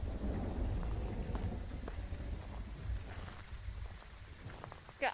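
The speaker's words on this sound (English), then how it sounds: "Thunderbolts and lightning, very, very frightening." Steady thunderstorm ambience in the ghost-hunting video game Phasmophobia, with continuous heavy rain and low rolling thunder rumbling underneath, plus a few faint clicks and a sharper sound at the end.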